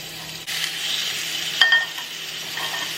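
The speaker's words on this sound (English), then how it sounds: "A nice hot pan, so I'm just gonna take the pork and we are gonna sear it" Pork searing in a hot pan with olive oil, a steady broadband sizzle running throughout with a brief louder spit partway through, close and alone without talk.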